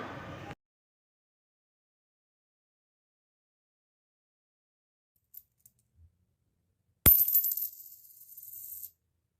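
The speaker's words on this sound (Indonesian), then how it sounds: "Dari hasil pelemparan 4 buah koin sebanyak 1 kali dihasilkan 3 angka sama 1 gambar." Four coins tossed together, landing with a sharp metallic clink and a bright ringing clatter that fades over a couple of seconds after a long near-silence.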